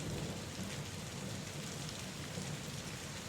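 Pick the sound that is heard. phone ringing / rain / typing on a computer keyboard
rain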